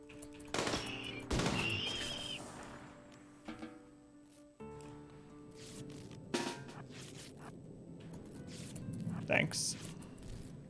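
Sharp gunshot cracks, a couple of loud close bursts early on and scattered later shots, set against a busy background with people talking.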